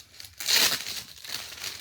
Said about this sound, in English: I might put that back in the plastic bag